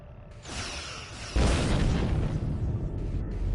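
Starship weapons fire in Star Trek Online against an Undine planet killer: a rising burst of energy fire, then a heavy booming explosion that rumbles on loudly for several seconds.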